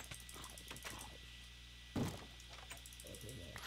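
Blocky wooden door in the video game Minecraft giving a single sharp knock-like clunk midway, preceded and followed by soft game clicks and faint talk in the background.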